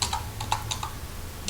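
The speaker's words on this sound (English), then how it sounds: "let me begin typing" Quick keystrokes on a computer keyboard while entering text in Adobe Photoshop, a handful of light, irregular clicks close by with no talk.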